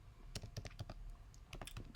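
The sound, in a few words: computer keyboard keys being typed on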